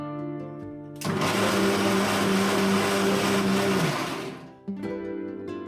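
Kitchen blender grinding peeled onion and garlic into paste, starting abruptly after a second, a loud steady whirring grind lasting about three seconds, then cutting off with a brief clunk as a quieter motor hum continues.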